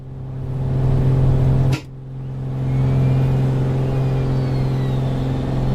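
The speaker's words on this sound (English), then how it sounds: "I love how you can hear the wheels." Bonanza taxiing in Microsoft Flight Simulator 2024, a steady low engine hum and rumble with wheels rolling on the runway, interrupted by a brief sharp thump partway through before the drone resumes.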